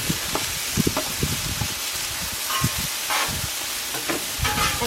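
Potatoes fry in oil in a pan with a steady, loud sizzle and hiss, broken by repeated scraping and stirring knocks as they are moved around.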